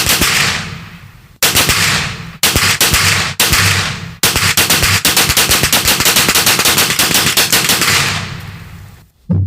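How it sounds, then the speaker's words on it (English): Rapid bursts of gunfire from a pistol and a rifle ring out loud and close, several volleys in quick succession separated by brief pauses, the last shots trailing off into echo. "That's a pistol round and a rifle."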